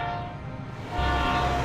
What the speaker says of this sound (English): Every time that train goes by